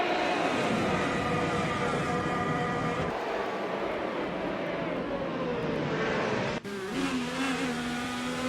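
Indycar race cars, including a Honda, roaring around a track in a racing video game: a steady, loud, high-pitched engine drone that shifts in pitch as the cars pass, continuous and with no talking.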